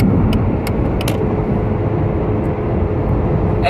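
Steady broadband road roar of a car accelerating up onto a highway, a continuous close rumble of engine and tire noise with a few brief high ticks, no talking.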